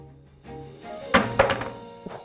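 A Samsung Galaxy A22 5G smartphone is dropped onto its back, landing with a sharp thunk, bouncing with a second knock and settling with a small tap, close and fairly loud.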